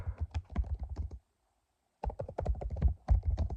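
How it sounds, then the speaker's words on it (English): Rapid clicking keystrokes on a computer keyboard, a burst of typing that pauses for about a second, then resumes at a brisk, uneven rhythm, close and clear. "I'm going to just type in Oregon"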